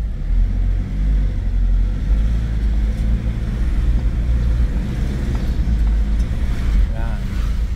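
Steady, loud low rumble of a 2011 Ford Everest's engine idling in gear, its automatic transmission faulty with no reverse, sustained throughout with a faint clunk near the end.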